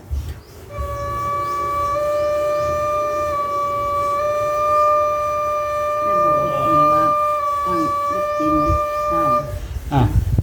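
A breathy homemade bamboo flute in the key of D holds one long, steady, slightly airy note during tuning that sustains for several seconds, with some handling noise and background clatter near the end.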